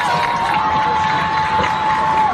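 Steady crowd noise fills the stands at a Sheldon versus Emmetsburg high school varsity football game, a continuous broad roar of cheering and shouting with a faint sustained whistle-like tone running through it.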